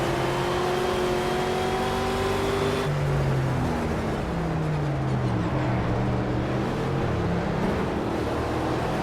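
Race car in the Project Cars video game lapping Silverstone with manual paddle-shift gears, the engine whining loudly, dropping sharply at a gear change near the third second, then revving up and down through further shifts.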